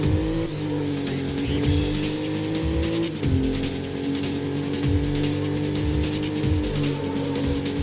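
A racing car in the PlayStation game NFS: Road Challenge roars loudly as it drives, and its engine pitch climbs and drops sharply with gear changes. Tire squeal runs through it, with no voices.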